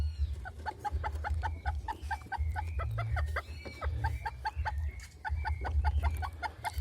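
A broody bantam hen clucks in a steady, rapid rhythm close by, a repeated run of sharp calls carrying on alone over a low background hum.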